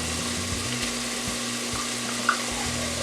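Tomato paste scooped into a hot pan, giving a steady, low sizzle that runs evenly throughout with only small shifts, close and moderately loud, no voices.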